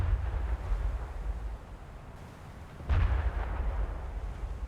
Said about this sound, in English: And we continue to shoot.